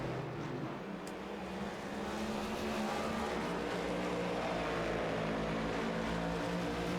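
A race car engine in a sim racing game on an ARCS Darkside Mustangs A2 Cup broadcast at the Hoosier 110, droning steadily as the car pulls in for a pit stop, a continuous loud rumble that swells slightly.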